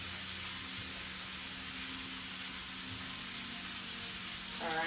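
Boudin-stuffed pork searing in a pan with garlic and butter, a steady dense sizzle throughout, fairly loud and constant with a brief clink near the end.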